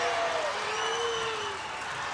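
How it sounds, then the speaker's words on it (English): Crowd noise from spectators at a Cumberland Valley girls' high school basketball game against CD East, a steady, fairly loud wash of voices and applause with a faint whistle-like tone drifting through. "The Cumberland Valley crowd's getting a little crazy about it"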